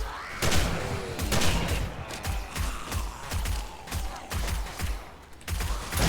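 Rapid bursts of shotgun and rifle fire in the zombie survival game 7 Days to Die, loud and close, with clustered shots and mechanical clicks in quick irregular succession across the whole stretch.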